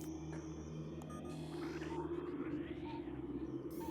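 A steady low humming drone in Metroid Prime marks a nearby upgrade. It carries on without a break under faint, shifting ambient tones in a sandy ruins area.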